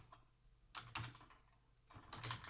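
Rapid bursts of typing on a computer keyboard while entering code, clustered keystrokes in two short runs separated by a pause, close and fairly quiet with no talk.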